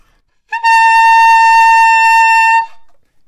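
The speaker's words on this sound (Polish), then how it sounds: "A jeżeli chodzi o dźwięki wyższe, to mamy tutaj fis trzykreśne, brzmi tak." Saxophone plays a high F-sharp three-line, a single piercing, bright tone sustained for about two seconds with a sharp start and clean stop, close and loud against silence.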